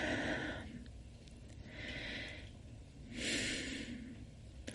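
Slow breaths during a guided breathing exercise: a long airy exhale followed by two more soft, breathy inhale-exhale swells, close and quiet, with no speech.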